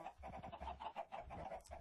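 Clucking chicken sounds from Minecraft with the DartCraft mod, a quick run of short, quiet, rhythmic clucks without any talking.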